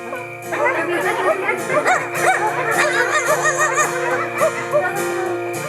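A backyard concert crowd imitates little dog barks, many voices yipping and yapping at once in a loud, overlapping chorus over a sustained musical tone.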